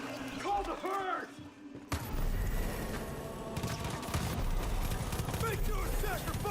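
Gunfire in the Far Cry video game: after a brief quiet pause comes a loud, dense burst of rapid shots and impacts that keeps rattling on, with a person talking over the action.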